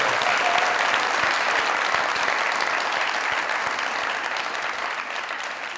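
A television studio audience at a comedy talk show bursts into loud, sustained applause, a dense wash of clapping that carries on throughout and tapers slightly at the end.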